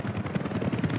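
Helicopter in the city-building game Workers & Resources: Soviet Republic, a steady rotor drone with rhythmic low thumping, fairly loud and continuous, with no talking over it.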